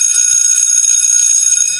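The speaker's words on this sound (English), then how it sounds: "we can go on and ring this school bell" A school bell rings continuously with a bright, steady metallic trill, loud and close, with no pause and no voices over it.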